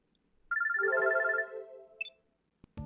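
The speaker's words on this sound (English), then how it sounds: "I pick up my phone droid as it continues to ring annoyingly." A phone ringing in the video game Robotics;Notes Elite: one loud electronic ringtone burst of rapid trilling tones, then a short blip, with a faint click and a low thump at the end and no voices.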